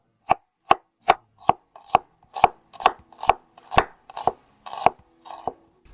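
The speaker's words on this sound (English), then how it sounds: "we take an onion and slice it thinly into half rings" An onion sliced thinly into half rings with a knife on a cutting board, about thirteen crisp, evenly paced chops, close and loud, with no talking.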